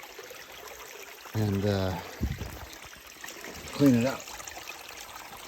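Water trickles and drains out of a spring-water sand trap on an Oregon coast homestead, a steady close pour running under two short bursts of someone talking.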